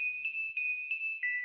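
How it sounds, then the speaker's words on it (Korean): A phone message notification sounds as a clear, high electronic tone with a few quick pulses repeating over a second and a half, close and fairly soft, alone in an otherwise quiet room. "남자친구의 핸드폰에 메시지가 떴어요"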